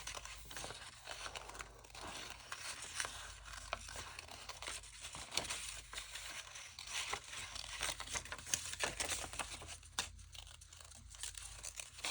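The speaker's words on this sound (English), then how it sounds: "So I'm going to kind of just cut along here" Scissors cut along a paper tag, giving a close, quiet run of crisp snipping and crinkling paper noises that continues unevenly without talking.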